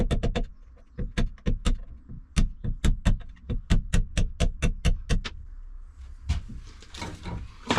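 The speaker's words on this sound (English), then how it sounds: "That is the pin that I need to knock out." A hammer repeatedly knocks a tiny pin out of car brake shoes, about twenty sharp metallic taps in a steady rhythm, close and loud, followed by a few scraping clatters.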